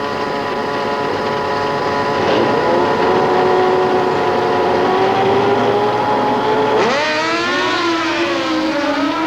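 Drag racing motorcycles at the 1990 Winternationals at Willowbank, Australia, roar down the strip at full throttle, a loud sustained engine drone with rising pitch and a sharp gear-change swoop near the end.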